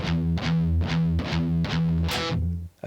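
Heavily distorted electric guitar plays chugging pedal tones and power chords in a steady rhythm. The notes are loud and evenly repeated, and a brighter chord rings out near the end.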